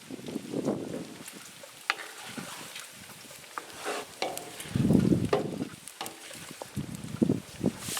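Pork rinds fry in hot rendering fat, a soft crackling sizzle with occasional stirring scrapes and clinks of a utensil, louder bursts of bubbling now and then, close up and without talk.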